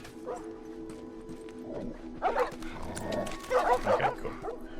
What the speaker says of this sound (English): This dog's still right outside